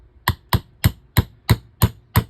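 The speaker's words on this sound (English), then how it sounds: "I'm using a hammer to hit something." Seven sharp, evenly spaced hammer taps on a pin in a Remington 521-T rifle bolt, close and crisp on a workbench with no voices.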